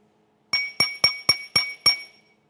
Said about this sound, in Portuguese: E o terceiro e último recipiente de vidro, esse copinho.